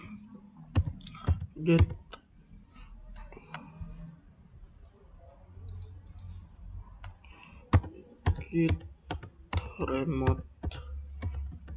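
Typing of git commands on a computer keyboard, with bursts of quick clicking keystrokes separated by pauses and a person talking between and over the bursts.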